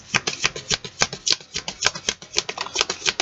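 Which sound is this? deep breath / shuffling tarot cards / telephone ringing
shuffling tarot cards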